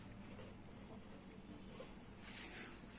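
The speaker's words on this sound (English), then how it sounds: "We write first line to drugs." A pen scratches across paper while an accounting entry is written out, giving a quiet, close, irregular scratching with one brief brighter stroke near the end.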